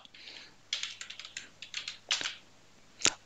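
Typing on a computer keyboard, a close series of crisp key clicks in short uneven bursts, ending with a couple of louder taps, with no talk.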